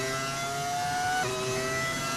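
In the video game F1 25, a race car engine whines steadily and loudly, with a clear drop in pitch partway through as the gear changes.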